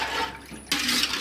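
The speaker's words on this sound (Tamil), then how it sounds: "தேவையான அளவு தண்ணி விட்டாச்சு." Water streams into a cooking pot for ghee rice, a rushing pour that dips briefly and then surges back, close and steady.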